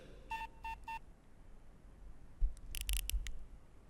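Telephone keypad tones entering a voicemail code: three short evenly spaced beeps close together, then a quieter pause and a cluster of sharper clicks and tones, faint and unaccompanied by talk.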